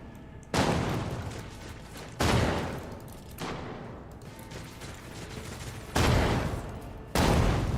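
Video game gunfire, a few loud sudden volleys of shots each fading into a sustained rumble, with a quieter stretch of battle noise between bursts.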